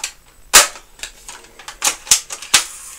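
A spring-powered M4 airsoft gun with an adjustable stock firing several single shots, each a sharp snappy crack with mechanical clicks between, close and irregularly spaced.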